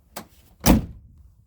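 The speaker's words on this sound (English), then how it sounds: "And then when we shut the door" A Land Rover Defender door is pushed shut with a light click followed by a solid, close thud, then quiet.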